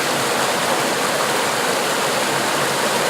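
Steady rushing river water, a loud, unbroken broadband wash with no pauses or other sounds standing out.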